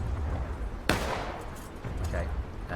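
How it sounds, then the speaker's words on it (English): A musket shot in War of Rights cracks sharply once near the start of the second half, loud and close, with a decaying echo, over a low battlefield rumble and a few faint distant shots. "I'm actually taking a shot to our left there"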